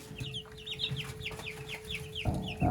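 Young meat-bird chicks peck at frozen slushy pumpkin, with steady soft clucking and repeated bright peeping chirps close by, plus a few louder low thumps near the end.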